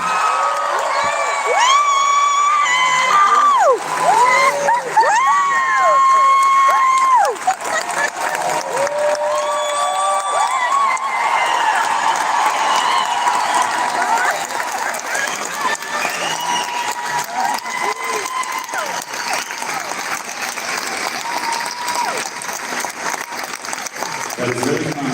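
A New York concert audience cheers and applauds loudly, with whoops and shouts rising over sustained clapping throughout, while a voice talks over the crowd noise.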